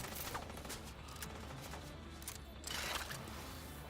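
Sustained gunfire in The Division 2, a dense stream of rapid shots over a constant roar of game noise, with a louder burst near the end.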